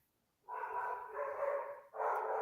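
A dog lets out a long drawn-out bark or howl, then a second shorter one after a brief break, fairly close and loud against a quiet background.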